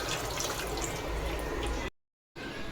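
Two dishes being washed under a running tap, a steady rush of splashing water that cuts out abruptly for a moment near the end, then resumes.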